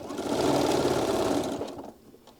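A sewing machine runs a steady, loud stitching burst while anchoring the first seam of a table runner, then slows and stops near the end.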